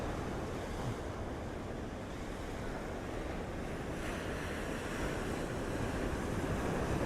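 Ocean surf rolling in at the Gold Coast, a steady, broad wash of breaking waves mixed with wind buffeting the microphone, continuous and fairly loud with no voices.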